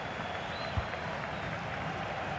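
Crowd applause in a FIFA 22 football match, a steady, soft wash of clapping and stadium noise holding evenly throughout at a distance.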